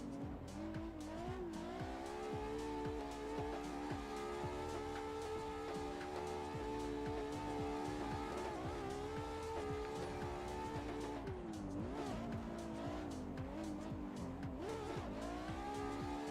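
Car drifting in a racing video game played with a direct-drive steering wheel, engine revving steadily with tire squeal and skidding throughout, loud and continuous with no talk.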